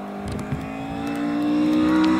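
A classic Ford Cortina Mark 1 racing up the Harewood hillclimb course: a steady engine drone that swells as the car accelerates, with no voices over it.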